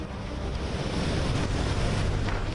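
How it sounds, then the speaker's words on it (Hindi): Roaring sea waves at Digha, West Bengal, before Cyclone Yaas, a dense steady wash of surf with wind noise buffeting the microphone, loud and continuous with no voices. "लहरें दहाड़े मार रही हैं।"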